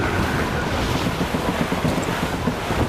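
Strong wind roars over open ocean in the naval game Assassin's Creed Rogue, a steady loud rush with surf and ship noise underneath, no voices.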